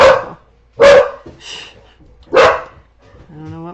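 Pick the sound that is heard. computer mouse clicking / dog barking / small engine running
dog barking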